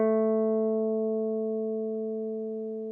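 A single guitar note, A, plucked at the 2nd fret of the 3rd string, rings clean and sustained, slowly fading over a few seconds with nothing else heard.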